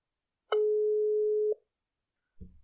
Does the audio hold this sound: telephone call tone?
yes